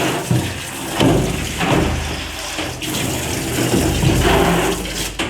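Water runs steadily over a silkscreen stencil, a loud close rushing and splashing that keeps going with surging swells and no pause.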